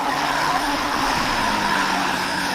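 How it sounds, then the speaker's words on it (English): Racing car at speed through the high-speed Blanchimont corner at Spa, a dense, loud roar of engine and tire noise that holds steady for a couple of seconds with no voice. "Leclerc seizes the moment and surges past Bourne at the high-speed Blanchimont corner"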